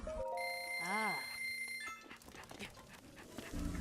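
A dog panting in the video game Breath of the Wild, in a desert area, with quick breathy huffs following a bright, warbling chime of game tones, close and moderately loud.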